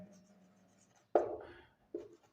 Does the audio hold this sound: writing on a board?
yes